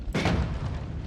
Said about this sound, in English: This fireball orbit does create an explosion